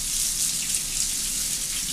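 Warm water runs steadily from a tap into a sink, filling it to wash goalkeeper gloves; a constant close hiss and splash with no talk.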